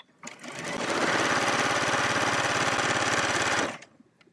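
A sewing machine stitches a folded fabric tube right sides together, running in one steady, fast, loud burst for about three seconds before stopping, with no talk over it.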